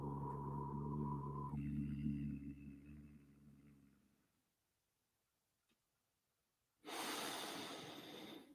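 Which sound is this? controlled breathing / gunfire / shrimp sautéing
controlled breathing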